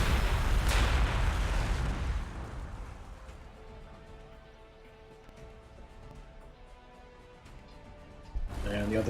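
A tank firing in the strategy game Warhammer 40,000: Gladius, one heavy booming blast followed by a long fading rumble and a second blast at the end, with someone talking over the game.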